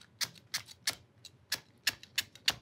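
Knife chopping through soft lemongrass stalk on a board, a steady series of about eight crisp, short cuts spaced roughly a third of a second apart, close and fairly quiet.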